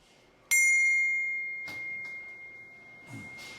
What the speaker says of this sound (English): Leveraging that capability, it manufactures English handbells